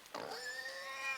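Zombie pigs in the game Inside let out a faint, drawn-out squealing grunt that bends in pitch, heard alone against a quiet background.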